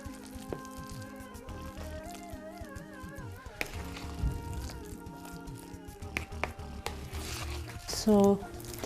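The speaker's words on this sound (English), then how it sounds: "And I'll use a spoon and I'll just mix this properly all together." A spoon stirs and mixes food seasoned with salt and black pepper, soft squishy scraping under steady background music.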